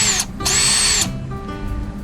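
A cordless drill whines loudly in a short burst, stops briefly, then spins up again for about half a second before winding down, leaving a low background hum.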